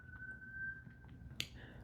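An ambulance siren passes outside as a steady, moderately loud wail that holds one pitch through most of the stretch, with a short sharp click partway through and low room rumble underneath.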